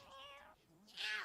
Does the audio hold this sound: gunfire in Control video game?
no